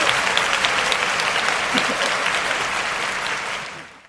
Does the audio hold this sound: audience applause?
yes